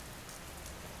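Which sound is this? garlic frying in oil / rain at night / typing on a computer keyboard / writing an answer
rain at night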